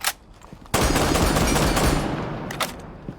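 A Spaz 12 shotgun fires in Rainbow Six Siege: a loud close blast opens into a long stretch of rapid, continuous shooting that slowly tapers. A few sharper single reports follow near the end.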